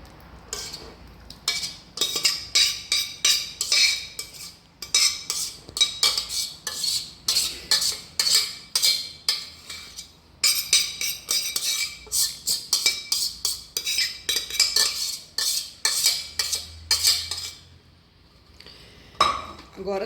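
Whole wheat pasta being stirred through a rosé sauce with bacon and mozzarella, a utensil scraping and clinking against the pan in repeated rhythmic strokes, fairly close and clear, with no talk.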